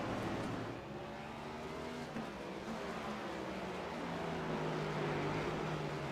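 A race car roars past on a street circuit, a loud engine note sweeping steadily with shifting pitch over about six seconds, followed by a continuing drone, no voices.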